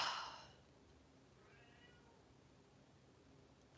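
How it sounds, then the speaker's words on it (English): A cat cries indoors, its meows faint and distant, with a soft drawn-out call in the middle against quiet room hiss. "A cat is crying"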